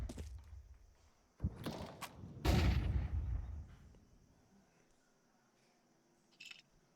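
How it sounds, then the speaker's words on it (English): A flashbang and gunfire ring out in a Counter-Strike match, with two loud bursts sounding close, the second longer and heavier, then fading into quieter in-game noise and a brief final crack. "Kiwi gets a flashbang over top."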